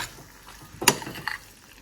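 Masala pasta with melted cheese being stirred in a pan, a single clear scrape and clatter of the spoon against the metal partway through, with a softer tap after it over a faint background.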